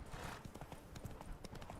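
Horse hooves clip-clopping in The Witcher 3 game while riding, a steady quick rhythm of soft thuds at low volume, with faint game ambience.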